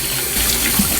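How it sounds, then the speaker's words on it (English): Water runs steadily from a tap into a sink, a continuous hissing splash at moderate level with a slight surge partway through, no voices. "Turn some water on."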